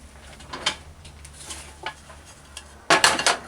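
Chunks of raw stew beef dropping into a metal pressure cooker pot, giving scattered soft clunks and scrapes with a louder burst of clattering near the end, close and without talk.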